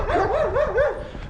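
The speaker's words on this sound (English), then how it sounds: "But it's full of dogs, like guarding the buildings because of the Gopniks, maybe." Dogs barking and yipping among buildings in a Ukrainian district, a short run of loud, close, whining barks.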